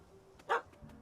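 A single short, faint dog bark rings out from a puppy in The Witcher 3: Wild Hunt, Hearts of Stone, one quick yelp against a quiet background with no talking.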